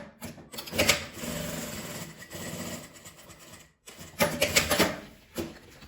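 Sewing machine stitching the side of a clear crystal plastic pouch, running in two loud bursts with a pause between and a short restart at the end.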